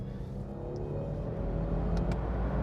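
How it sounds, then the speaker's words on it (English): A car with a 10-speed transmission rumbles low and steady as it downshifts from 4th to 2nd, engine note swelling slightly toward the end. "This is a downshift from 4th to 2nd here."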